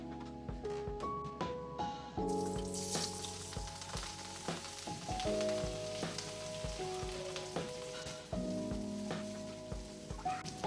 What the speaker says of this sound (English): to cook our Brussels sprouts, we are just going to be sauteing them in some olive oil